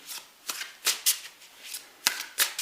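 Tarot cards are shuffled in a series of crisp riffling bursts, close and fairly quiet, with short pauses between each flurry and no talking.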